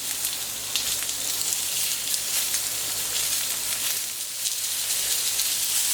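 Pork tenderloin sears on a hot plancha griddle, giving a steady, close, bright sizzle with crackling spatters that continues without a break and without talk.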